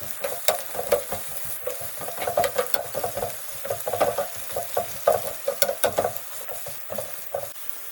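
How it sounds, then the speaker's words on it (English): Onions fry in hot oil in a pan for a Japanese dish, giving a steady close sizzle with frequent crackles and stirring clatter throughout, no voices. "First, fry the onions in hot oil until golden brown."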